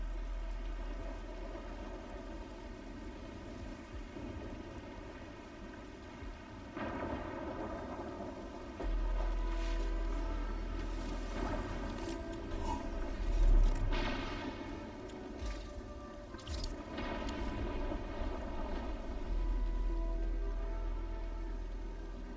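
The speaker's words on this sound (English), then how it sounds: "It's raining harder. I can't hear anything except for the rain." Heavy rain in a video game pours down steadily, a dense hiss with gusting wind that swells louder partway through, no voices over it.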